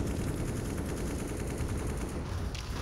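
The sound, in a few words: gunshot in CS:GO video game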